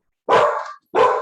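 Dogs bark twice, loud and close, with a long first bark and then a second after a short gap.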